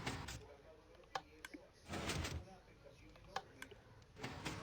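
Redstone-powered doors in a Minecraft map styled after a Five Nights at Freddy's office, opening with several short mechanical clicks and a brief sliding rush, moderately close over a steady hiss.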